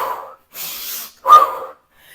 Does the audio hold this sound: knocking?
no